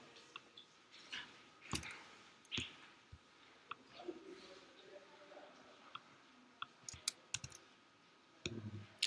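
Sharp, isolated clicks from a computer mouse tap out at irregular moments, faint and close, with soft desk and handling noises between them and no talking.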